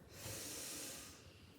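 A person in a yoga class draws one slow, close breath in through the nose, a soft airy inhale swelling and fading over about a second.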